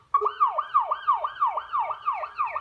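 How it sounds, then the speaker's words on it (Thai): A police siren wails in a fast repeating up-and-down yelp, about ten cycles, loud and close, with no talking. "Police car."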